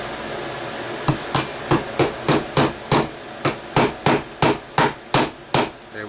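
A small punch struck with a hammer to drive a part out of a firearm action: about a dozen sharp, close metallic taps in a fairly even rhythm, with no voices.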